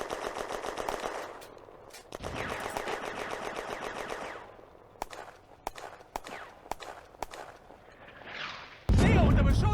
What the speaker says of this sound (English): a machine gun opens up from the church near the Crossroads